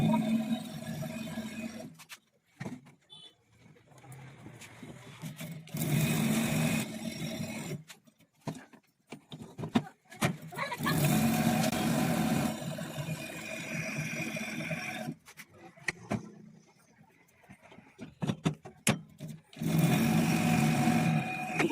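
Ceiling fan coil being rewound on a winding machine, a steady mechanical whir running in bursts with short pauses between winding passes, moderately loud and close.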